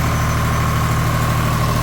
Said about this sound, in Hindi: ये हाथ साइड में जनरेटर स्टार्ट हो चुका है दोस्तों। देख सकते हैं ना कोई वाइब्रेशन है ना कोई धुआं, बिल्कुल एक आवाज़ में इंजन चल रहा है दोस्तों।